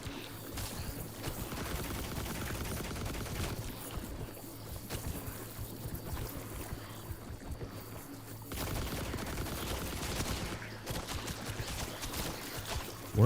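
Enemy gunfire in The Last Caretaker video game, a steady stream of dense rapid shots and rattling bursts running almost without pause, fairly loud, with a short lull midway and a sharp hit at the very end.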